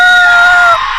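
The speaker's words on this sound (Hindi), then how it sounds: "प्रियांशी जोर से चिल्लाई" A girl's loud, high sustained scream in a horror story, one piercing held cry lasting about a second before it breaks off.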